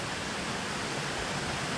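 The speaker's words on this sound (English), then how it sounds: "You can hear the water as we get closer to it. It's getting louder. That rushing water." Water rushes in a stream beside the Mount Wilson Trail, a steady, even hiss of moderate level with no voices over it.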